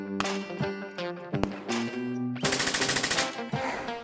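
Gunfire at Sunset Hill Shooting Range in Henryville, a few loud sharp shots followed by a rapid burst of automatic fire, mixed with music-like tones in the background.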